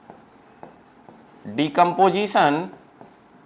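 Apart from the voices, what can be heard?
writing on a board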